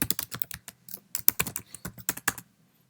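Typing on a Mac computer keyboard, a close, crisp patter of individual keystrokes in uneven bursts with short pauses between words, ending in quiet.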